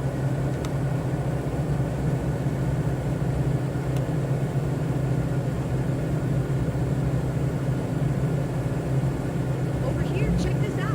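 Aircraft engines held at full throttle in a flight simulator game, a steady droning rumble with a low hum that stays even and continuous throughout, with faint clicks near the end.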